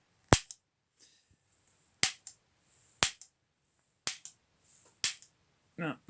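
A mini potato gun's igniter fires in five sharp, snapping clicks spaced roughly a second apart, each with a short echoing tail, close and fairly loud, with faint background noise between them.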